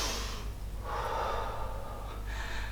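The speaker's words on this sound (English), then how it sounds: "Inhale." A deep breath drawn in during a yogalates exercise, two audible airy inhales close to the listener, the second longer and stronger, over a low steady background hum.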